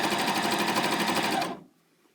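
Janome CoverPro 900CPX coverstitch machine sewing fabric, a loud, fast, even mechanical whir for about a second and a half that stops abruptly, leaving quiet.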